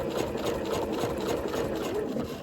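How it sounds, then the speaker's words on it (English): Sewing machine stitching the base onto a fabric weekender bag: a continuous, fast mechanical whirring with a fine rapid rhythm, steady and close throughout. "this is how we sew the base on"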